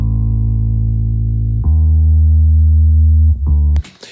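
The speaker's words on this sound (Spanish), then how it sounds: "tengo un bajo grave que se grabó desde un ampli" Low bass notes recorded through an amplifier, loud sustained tones held for over a second each with a pitch shift between them, ending in a brief noisy burst.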